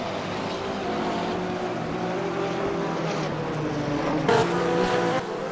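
BMW and Porsche GT3 race cars in a sim racing game at the Nürburgring, engines droning steadily at moderate volume with a shifting pitch and a brief louder surge near the end.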